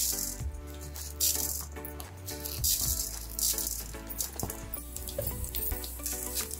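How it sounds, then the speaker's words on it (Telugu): Peanuts and urad dal fry in hot oil for nalleru pachadi, giving a steady close crackle and sizzle throughout, with occasional rattling knocks as lentils are added and stirred in the pan. "పల్లీలు కొంచెం వేగుతుంటే మినపప్పు కూడా వేసేసుకోవాలి."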